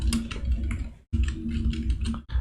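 Rapid keystrokes on a computer keyboard, typed steadily in close bursts with a brief pause midway, loud and clear with no talking.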